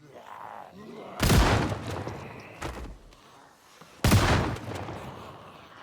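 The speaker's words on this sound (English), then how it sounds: "it's fun to use a shotgun sometimes" Shotgun blasts go off close by, loud and booming: one big shot, a smaller pop about a second later, then another heavy blast, each followed by a rumbling decay.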